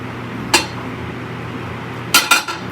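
A warm metal measuring cup, used for melting plastisol for swimbaits, is dropped onto a hard surface: one sharp clank, then a quick double clatter of metal on metal, close and loud with no talking.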